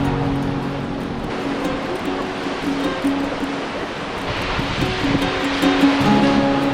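Ocean waves wash onto a beach at Byron Bay, a continuous loud surf roar that swells and recedes, with wind and a faint hum in the background.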